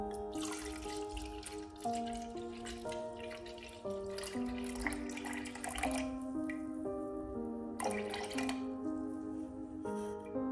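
Turmeric water being strained into a container, dripping and trickling steadily, with faint musical tones playing underneath throughout.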